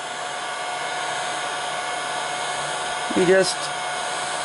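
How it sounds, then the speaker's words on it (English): A heat gun on its low setting blows a steady, even airflow across the whole stretch, working on a sway bar mod for a model DeLorean, with a brief spoken phrase near the end. "hit this with the heat gun"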